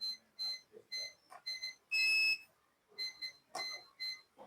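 A multimeter set to its buzzer continuity range, probing double-door refrigerator parts, gives a string of clear, high electronic beeps in short bursts with one longer sustained tone, loud and close with quiet gaps between.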